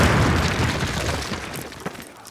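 Explosives blasting a cinder block wall in Call of Duty give a loud boom that rumbles and decays over about two seconds, with scattered debris crackle and a small pop near the end.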